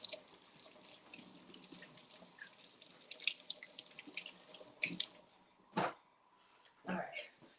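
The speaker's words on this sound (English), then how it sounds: "we're going to give this a good wash" Tap water runs into a sink as hash browns are washed, a soft continuous splashing with a few louder gushes and drips near the end, while people talk over it.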